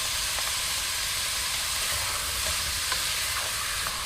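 Grated courgette and chopped garlic sauté in a pan with merguez sausages, giving a steady, loud sizzle and hiss with occasional light stirring clicks and no talk.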